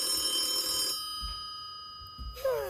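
Telephone ringing loudly nearby in a home: a bright electronic ring that stops after about a second, then a quiet gap, then the ring starting again.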